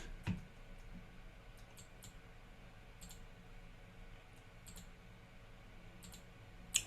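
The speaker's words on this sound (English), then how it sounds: "Clicking." Computer mouse clicking quietly against a faint hissy background, a few sharp isolated clicks spaced irregularly, one near the start and one louder at the end.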